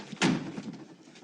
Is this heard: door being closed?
yes